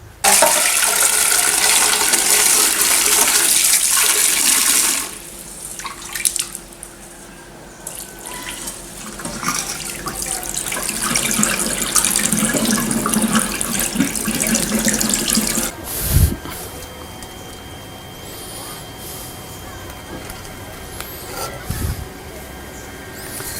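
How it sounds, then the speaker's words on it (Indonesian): Tap water runs steadily into a sink while sambiloto leaves are washed clean, a loud broadband rush that drops back partway through and continues more softly, with occasional clunks of handling. "Saya cuci bersih dulu dengan air ya."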